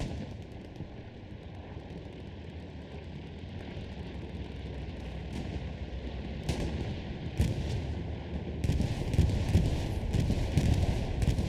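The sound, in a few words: bombing run explosions in Hell Let Loose video game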